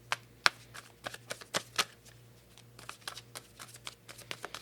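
Art of Manifestation oracle cards are shuffled for a tarot reading, a quiet, close series of crisp riffles and soft card slaps in irregular bursts, with no one speaking.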